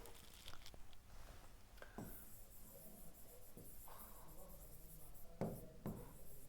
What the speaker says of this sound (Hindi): मैं लिख देता हूं यहां पर